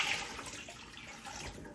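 Cold water runs steadily from a kitchen tap over softened rice noodles being rinsed for bún chả, a continuous close, even rush with no talking.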